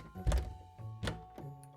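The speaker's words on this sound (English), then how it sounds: "He pushed the door open." A door is pushed open, giving two dull thunks followed by a softer knock, fairly close and moderately loud in an otherwise quiet space.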